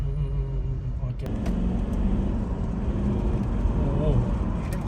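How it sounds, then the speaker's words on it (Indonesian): A Toyota Land Cruiser's twin-turbo V8 VD engine idles with a steady, close, low rumble throughout, under people talking, with a brief sharp knock early on. "Ini V8, jadi V8 VD engine, dia twin turbo, kiri dan kanan turbonya."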